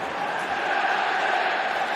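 A football stadium crowd at a Manchester United versus Wolves League Cup match roars and cheers in a sustained, loud wash of massed voices that holds steady without a break.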